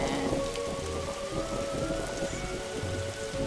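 Steady storm rain pours without a break in The Darkside Detective video game, a dense close patter over a low rumble, with no voices.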